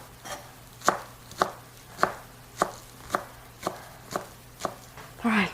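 A knife chops green onions on a cutting board in about nine crisp, evenly spaced strokes, close and clear over a low background hum, with a brief voice sound at the end.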